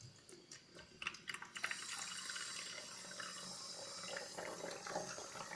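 Water pours steadily into a sprayer being filled for a black-soap aphid treatment, a faint continuous splashing trickle with a few small knocks at the start.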